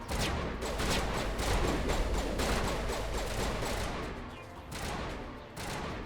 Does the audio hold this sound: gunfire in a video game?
yes